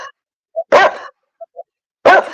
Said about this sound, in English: That's a big dog.